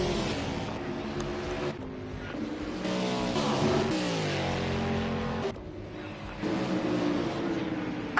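Race cars in a racing video game roar past, engine notes rising and falling in pitch with revving and Doppler sweeps, loud and continuous across the stretch.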